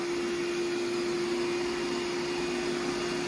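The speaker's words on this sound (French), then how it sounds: "Voilà, un bon aspirateur." A Eufy Omni E28 robot vacuum runs over a carpet, giving a constant, fairly quiet motor whine with a steady tonal hum and even airflow hiss that does not change.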